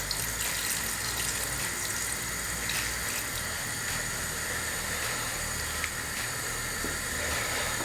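Stock pours over beef in a stew pot, a steady, broad hissing splash of liquid running without pause, fairly close and even in level, with no voices.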